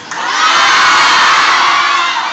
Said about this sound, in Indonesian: Ya, sebelumnya teriak dulu supaya keluar energi kamu.